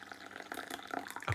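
A hot tea blend is poured, a close, splashy trickle of liquid with small bubbling drips that thickens toward the end into a fuller pour.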